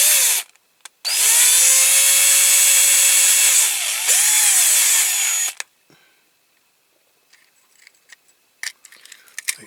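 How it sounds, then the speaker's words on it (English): A small power drill bores headlight holes into a Dinky Toys Morris 1100 die-cast model, whining loud and close for several seconds with pitch dips as it bites, then stops, followed by faint handling clicks. "Okay, so let's get this drilled. Okay, I'll start off gently."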